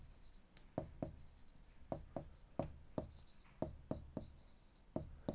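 Chalk or marker strokes on a board during a Class 7 maths lesson, a run of crisp scratching taps in uneven rhythm, close and clear over a faint room hiss.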